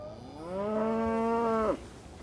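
A Corsican tiger cow (vache tigre) lets out a single long, loud moo lasting over a second, clear and close, with a falling tail at the end and quiet surroundings.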